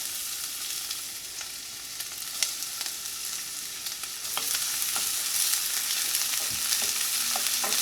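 Chopped onion, ginger, garlic and half a green chili fry in oil for a veg kids' lunch-box dish, giving a steady close sizzle that grows louder midway, with occasional stirring clicks and no talk.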